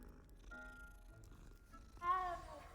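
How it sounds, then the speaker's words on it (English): A cat purrs in the video game Hogwarts Legacy, a soft low rumble beneath background game music, with a brighter chirpy meow-like burst near the end. "Oh, cat."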